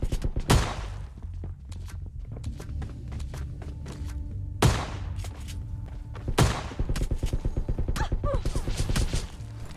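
Gunfire in PUBG Lite: a few loud, sharp shots crack out at irregular intervals over a busy background of rapid clatter and footsteps.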